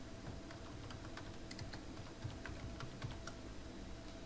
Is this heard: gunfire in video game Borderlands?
no